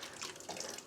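Vinegar poured into a dye pot while kettle dyeing rolags for spinning, a close, steady splashing trickle of liquid lasting under a second with no talk.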